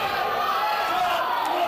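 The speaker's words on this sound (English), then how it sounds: "And you hear the roar of the crowd" Wrestling crowd at an FWA event roaring loudly and continuously, a dense wash of yelling and cheering that never lets up.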